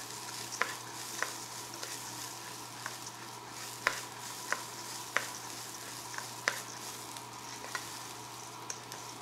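Basmati rice with spices frying in butter sizzles steadily in a pan, with regular light scrapes and taps of a spoon stirring through it at close range.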